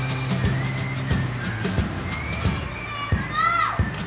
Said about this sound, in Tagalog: Kasi ang ingay ng mga bata talaga.